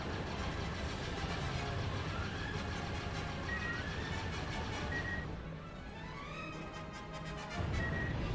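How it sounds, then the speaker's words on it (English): Starfighter engines in the Jedi Starfighter game on PS5 drone with a steady mid-pitched hum, overlaid by shifting electronic whines and tones, dipping briefly before surging back louder at the end. "There go my engines!"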